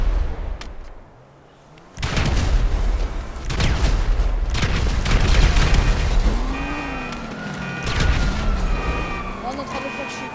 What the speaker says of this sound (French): on peut l'exploser